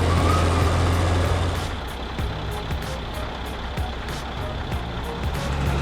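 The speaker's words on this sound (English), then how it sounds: "the transport beast strains to climb with a huge log" Logging truck hauling a huge log up a muddy slope, a loud low engine drone that drops slightly, followed by a repeated clanking, ticking rhythm over a continuous rumbling strain.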